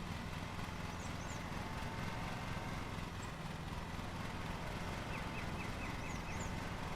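Lawn mower engine in Lawn Mowing Simulator running at a steady throttle, a continuous buzzing drone heard from nearby, with faint chirps in the background.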